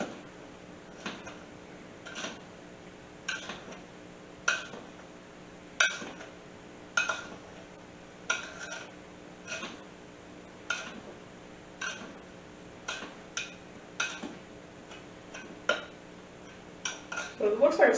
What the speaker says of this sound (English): it looks like it's starting to hold the shape of the spoon as I'm stirring